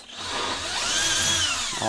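A power drill whirs steadily as its bit is run back through pre-drilled holes on a flat work surface to clean out fluff, one continuous close, loud spin with pitch rising and falling slightly.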